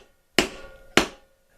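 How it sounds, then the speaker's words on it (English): Two sharp, loud metal whacks about half a second apart as a hammer drives a leather stamper against a metal anvil, shaping a sporran belt; each strike rings briefly and fades. "you just take your hammer and your stamper and you give some good sharp whacks"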